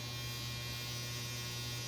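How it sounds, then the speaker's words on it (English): A clothes dryer runs with a steady low electrical hum and faint broadband whir, continuous and unchanging, no voices. "That's my dryer."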